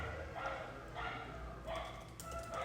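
Several dogs bark in the distance outside an apartment in Colombia, a string of faint, scattered yaps under a steady room hum with brief background talk.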